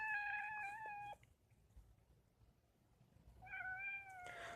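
A cat meows twice, each call a drawn-out, clear tone at close range, separated by a quiet pause of about two seconds.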